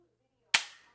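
A single sharp click from a Timney two-stage trigger breaking on dry fire in a PSA PA15 rifle, one crisp snap with a short fading ring.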